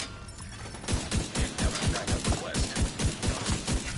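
Rapid automatic gunfire in the video game The Division 2, a steady stream of loud, evenly spaced shots lasting several seconds, close and dense.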